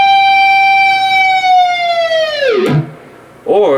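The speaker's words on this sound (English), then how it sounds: "You'll do a natural harmonic on 5G, dive bomb it with the whammy bar" A sustained ringing natural harmonic on the G string at the fifth fret holds steady, then plunges sharply downward in pitch as the whammy bar dives, followed by a brief warbling tail.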